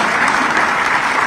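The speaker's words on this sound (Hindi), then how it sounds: "तो ताली वाली में कंजूसी क्यों हो रही है?" An audience at a regional industry conclave in Rewa claps steadily and loudly, a dense, even burst of applause from a large crowd with no voices above it.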